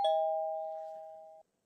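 A single electronic doorbell chime rings out clearly at an apartment door on a third floor, one sustained tone that slowly fades over about a second and a half, with nothing else around it.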